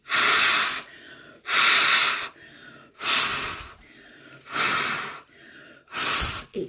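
Five loud, breathy bursts of air are blown into a toilet paper tube dragon craft, each rush lasting about a second and separated by quieter intakes of breath, in a steady alternating rhythm with no talking.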